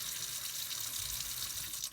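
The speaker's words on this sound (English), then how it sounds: "So I take cool water, and I'm going to wet the scarf." Cool tap water runs steadily from a faucet to soak a silk Arashi shibori scarf, a continuous close splashing hiss that eases off right at the end.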